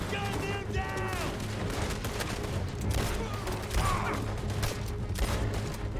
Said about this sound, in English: Gun him down.